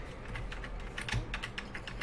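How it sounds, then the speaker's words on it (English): Computer keyboard keys clatter in quick, uneven bursts during a space survival game, close and fairly loud, with no voices. "I'm having to use keyboard and buttons"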